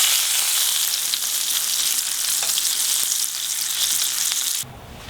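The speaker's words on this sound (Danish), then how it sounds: "Hvis man sætter bacon på en kold pande, så løber fedtet langsomt fra" Bacon sizzling in a pan that started cold, a dense bright crackle of spitting fat holding steady, then suddenly dropping away near the end.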